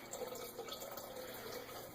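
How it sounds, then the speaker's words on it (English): Tap water running steadily into a container while preparing to homebrew banana wine, a continuous soft rushing and splashing at close range with no talk. "I'm just filling up some water here right now to use."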